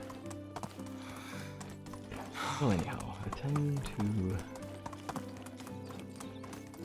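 Donkey hoofbeats in the medieval survival game Medieval Dynasty: rhythmic clip-clop steps with a braying call in the middle, heard under someone talking over game music.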